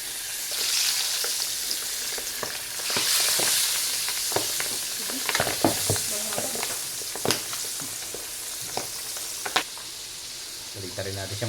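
Chicken fries in a hot pan as a holiday dish, giving a steady loud sizzle with stirring clatter and sharp utensil knocks scattered throughout, and no talk.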